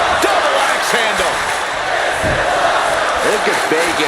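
An arena crowd in WWE 2K25 roars and cheers in a dense, loud wash, with whoops and impact thuds breaking through, under a commentator's voice.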